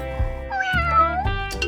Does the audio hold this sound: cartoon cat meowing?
yes